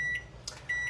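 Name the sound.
kitchen timer being switched on, beeping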